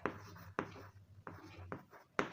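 Chalk or marker writing on a board in a maths lesson, a series of soft scratchy strokes and taps in an uneven rhythm, close and quiet.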